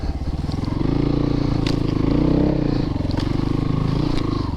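Christini AWD 250DS all-wheel-drive dirt bike ridden through mud and over logs, its engine chugging in a loud, steady throb at close range with light clatter, no voices.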